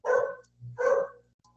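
Dog outside in front of a house, two loud close barks in quick succession with a short gap between, followed by a faint trailing yip.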